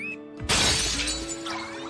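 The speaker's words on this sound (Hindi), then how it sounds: "वो तो टूट गया" Something shatters and breaks with a loud, sudden crash that spills into scattered breaking debris and trailing clatter, set over a steady tonal background.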